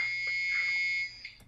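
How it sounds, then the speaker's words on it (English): A mobile phone rings with a steady, shrill electronic tone. It sounds close and sustained for about a second before cutting off, followed by faint clicks. "Is that your phone?"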